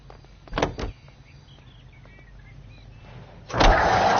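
Car engine starting in the video game L.A. Noire, a short cranking burst followed by a low idle, then a louder rising engine surge near the end, with no talk.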